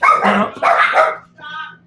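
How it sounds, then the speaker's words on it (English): A dog gives two loud, close barks in quick succession, followed by a shorter, softer yelp or whimper. "Well, the dog just freaked out."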